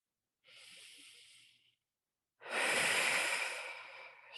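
A slow, close inhale followed by a pause and then a longer, louder exhale, taken while lying on a foam roller doing heel lifts; no talking.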